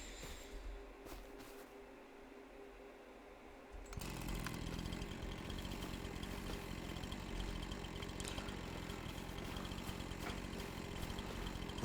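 A chainsaw in Farming Simulator 25 idles quietly, then revs hard and holds a loud, steady cutting whine through wood for several seconds, up close and uninterrupted.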